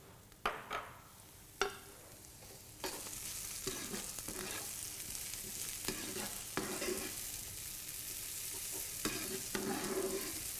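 Chorizo sofrito with tomato sizzles steadily in a paella pan, broken by repeated scraping stirs and occasional knocks of a utensil against the metal.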